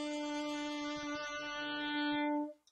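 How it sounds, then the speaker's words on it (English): An alto saxophone holds a single steady B note for about two and a half seconds, a clear bright tone with strong harmonics, played alone close to the microphone before cutting off. "So we are going to play a B and just hold it out for four beats."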